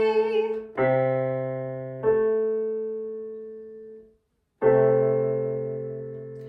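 A piano note A struck several times at an even pace in a children's music class, each tone ringing clearly and fading, with a short silence before the last strike.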